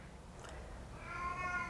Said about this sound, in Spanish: mi gata